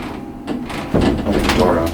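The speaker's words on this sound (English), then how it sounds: "This one has automatic gates. It's got the same star door operator." A Star door operator slides open the automatic gates of a 12-floor traction service elevator, a mechanical rumble and clatter that swells midway, up close with speech partly overlapping.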